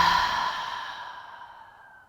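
One long, deep exhale through the mouth during gentle yoga breathing, close and breathy, fading slowly to quiet with no talk over it.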